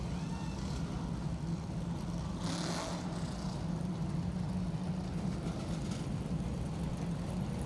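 NASCAR Whelen Modified Tour race car pulling off pit road, a steady loud engine drone with broadband roar at a racetrack, no clear change in distance.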